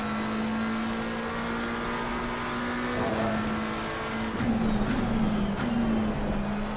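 A race car engine holding a steady droning note during a race, with a second engine note rising and wavering near the end as other cars close in, continuous and fairly loud.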